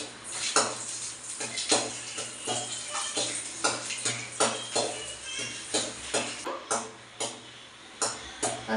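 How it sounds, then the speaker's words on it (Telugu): Dry fruits fry in ghee in a home kitchen pan while a metal spoon scrapes and clinks against it in a steady rhythm of sharp, close knocks. No one speaks. "ఇప్పుడైతే నెయ్యిలో ఇందులో అయితే నేను డ్రై ఫ్రూట్స్ వేసుకొని వేయించుకుంటున్నానండి నెయ్యిలో"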